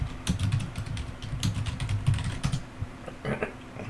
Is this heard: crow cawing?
no